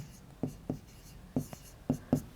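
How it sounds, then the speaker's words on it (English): Pen strokes on paper, close and crisp, in short scratchy bursts: two marks, a pause, then a quicker run of three or four strokes with uneven spacing. "Now let us write these prime factors here."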